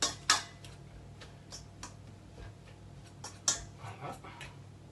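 Well-cooked potatoes being mashed by hand in a pot, a few sharp clinks and soft squelching presses spaced irregularly, close and fairly quiet.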